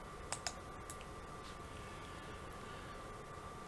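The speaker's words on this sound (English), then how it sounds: "I type in C and then click here." A couple of sharp computer key taps and a light mouse click sound close and crisp at the start, then only a quiet steady hiss remains.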